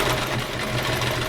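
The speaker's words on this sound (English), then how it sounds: "we'll go over to the sewing machine and do that" A sewing machine stitching quilt fabric runs at a fast, even mechanical whir with a steady rapid needle rhythm, close and loud throughout, with no voices.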